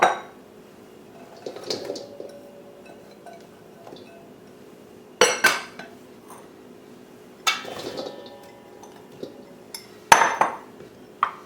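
Raw vegan flatbread ingredients are dumped into a bowl, producing several separate bursts of clattering and clinking against the bowl with quiet gaps between them, fairly close and loud.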